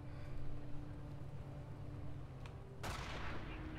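Video game battle with a captured MG42 machine gun, distant rattling gunfire and rumbling booms under a steady background hum, ending in a sharp louder burst of shots.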